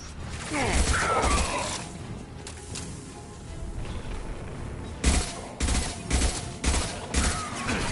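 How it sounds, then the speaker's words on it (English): High-impact weapon fire in Mass Effect 2, with sharp mechanical clacks and bursts of shots clustered near the start and again in a rapid series toward the end, loud and close over a busy game backdrop. "Firing a high-impact shot!"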